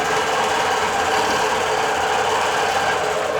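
A digital quilting machine running steadily with polysheen 40 weight thread, a continuous close, fairly loud whirring stitch drone with no breaks or voices.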